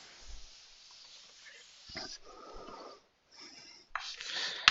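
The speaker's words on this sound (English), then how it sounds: "I'm going to erase some of this stuff" A board being erased during a math lecture on direct proofs, heard as soft, uneven scrubbing strokes that come in bursts with short pauses, close and fairly quiet, with no talking.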